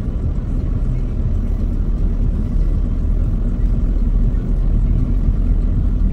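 Steady low rumble from inside a car driving on Rhodes island, a constant engine and road drone that stays loud and unbroken throughout.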